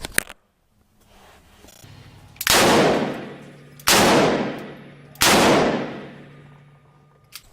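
Three loud Ruger Redhawk revolver shots with Buffalo Bore .45 rounds at a shooting range, evenly spaced about a second and a half apart, each a sharp blast with a long ringing decay.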